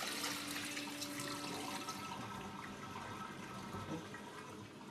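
Water draining away from washed couscous semolina, a steady faint trickling and running liquid sound, continuous and close, with no voices.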